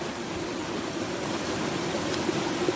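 Steady broadband rush of flowing stream water outdoors in Ireland, continuous and fairly close, with no talk over it.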